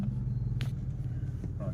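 A car that had been sitting unused idles with a close, low, steady engine rumble, interrupted by a couple of brief bursts of brighter noise.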